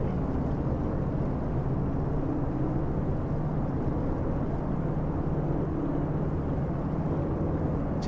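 Twin radial engines of a DC-3 running up together at high power in the X-Plane 11 flight simulator, a steady loud broadband drone holding without a break.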